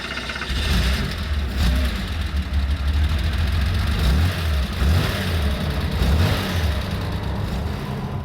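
A 1967 Porsche 911R tribute car's engine runs steadily at a low, throbbing idle, a close and continuous rumble with slight uneven pulsing throughout.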